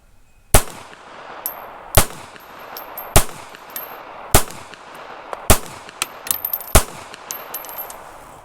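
Six sharp, loud gunshots from a Taurus Spectrum .380 ACP pistol firing American Eagle rounds, spaced about a second apart, each a crisp crack with metallic casing tinkles between shots.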